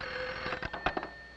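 A cartoon telephone rings in short bright trills, a few quick bell bursts heard alone at moderate volume.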